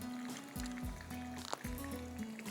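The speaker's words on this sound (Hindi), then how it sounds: "और साथ में पानी डाल दीजिएगा" Water poured into a pan of sriracha sauce for shrimp, with crushed red pepper added, making gurgling, bubbling liquid sounds with a few sharp clinks, fairly close and moderately quiet.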